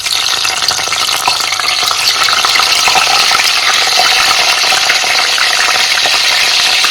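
Salted tilapia fries in hot oil, a loud, dense, steady sizzle with crackling spatter that holds unbroken from start to finish.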